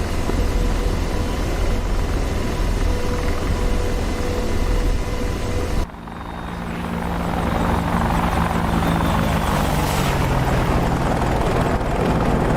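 An AH-64D Apache attack helicopter in the DCS World flight simulator over Syria roars with a loud, steady rotor and turbine drone, briefly dipping before swelling back to a full, close thrum with a whining engine tone.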